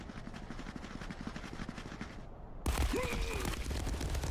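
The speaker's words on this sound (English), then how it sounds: "Grenades coming in from all sides here, though." Heavy, continuous gunfire and blasts fill a competitive online shooter match as grenades land from every direction, a dense rattling barrage that cuts abruptly into a louder, harsher burst near the end.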